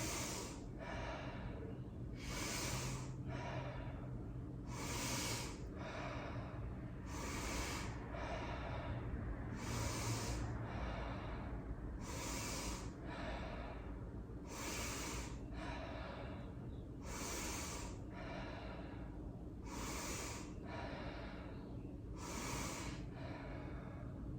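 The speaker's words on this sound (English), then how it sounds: "it's a big inhale and just a relaxed exhale" Slow, deep breathing during a morning yoga flow, about ten even cycles of audible inhales and relaxed exhales spaced a couple of seconds apart, close and clear over quiet room tone.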